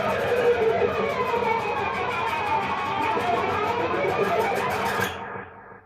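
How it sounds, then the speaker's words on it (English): A guitar pick scrapes across muted D and A strings through a delay pedal, making a loud, steady, close scratchy rasp for about five seconds. It then stops abruptly and leaves a faint, fading tail of repeats. "you're going to scratch it against the strings, and you want to be focused on scratching against the D and the A string"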